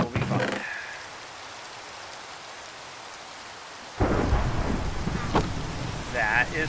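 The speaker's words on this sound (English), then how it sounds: "that is thunder" Thunder in the video game Minecraft: a loud broadband rumbling crack bursts in around the four-second mark over a steady wash of rain, following an earlier short rumble at the start, with a voice briefly audible.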